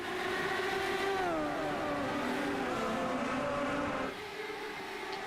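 Champ Car Lites open-wheel race cars accelerate away on a green-flag restart at Michigan, engine notes rising and sweeping in a tight pack, loud and sustained before easing off near the end.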